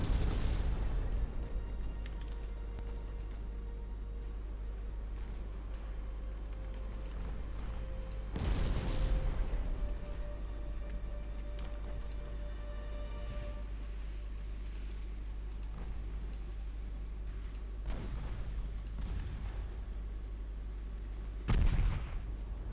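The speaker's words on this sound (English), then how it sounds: "now the 6-inch guns can actually punch through the armor at this range" Naval 6-inch guns firing in the Ultimate Admiral Dreadnoughts warship game, a few sharp booming reports spaced several seconds apart over a steady low engine-like drone, with faint clicking in the background.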